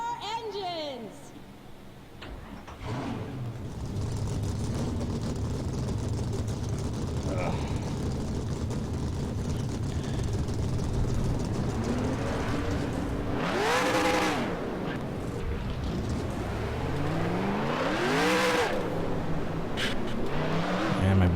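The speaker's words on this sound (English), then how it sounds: "Drivers, start your engines" Race car engines roar and rev in NASCAR Racing 2003, a steady loud drone with rising and falling whines as the cars pull away, while a person talks over the top.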